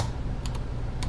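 Several quick keystrokes on a Text Shinobi keyboard, a ThinkPad-style computer keyboard with a trackpoint, sounding as short close clicks in two small bursts over a steady low background hum.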